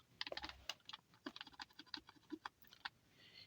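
Rapid clicking of computer keyboard keys while HTML code is typed, irregular bursts of close, crisp keystrokes with short pauses between runs, no one speaking.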